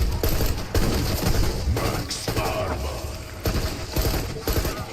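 Gunfire in Call of Duty Black Ops 6 during a zombies-style match, with dense, continuous bursts of shots and thuds through the whole stretch, loud and busy.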